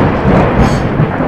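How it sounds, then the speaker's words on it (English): Loud thunder from lightning in Minecraft, a close, heavy rumbling roar filling the whole moment with crackling texture, with no voices. "That lightning is so loud."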